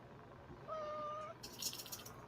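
A pet cat named Callie gives a single drawn-out meow, fairly close, followed by a brief rustle, with no one talking over it.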